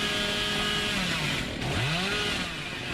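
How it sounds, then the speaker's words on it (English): A chainsaw in Dead by Daylight revs with a buzzing, rising and falling engine whine that sweeps up and down in pitch, loud and near throughout. "Oh, get this chainsaw"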